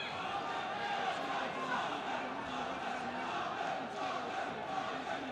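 A boxing arena crowd roars in a sustained, dense wash of cheering and shouting during a Khan versus Kristjansen bout, steady throughout without clear breaks.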